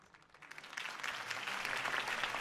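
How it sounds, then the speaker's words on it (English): Crowd applause follows a campaign speech in the Batman Telltale video game, starting modestly and swelling into sustained, dense clapping that holds steady to the end with no talk over it. "If only Mr. Wayne, my campaign's largest backer, could have heard that applause"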